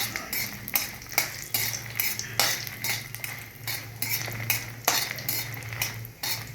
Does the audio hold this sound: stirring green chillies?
yes